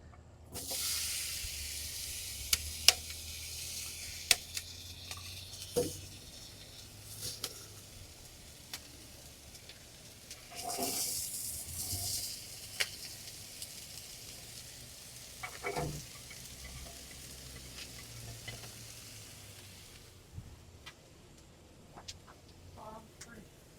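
Chopped onions, jalapenos, corn and red peppers sizzle on a Masterbuilt grill alongside steak, a steady soft frying hiss with occasional pops and clatters of handling, faint talk now and then.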